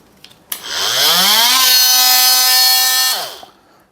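A Ryobi cordless oscillating multi-tool runs at its higher speed, spinning up with a rising pitch into a loud, steady buzzing whine for about two seconds at close range, then winding down and stopping.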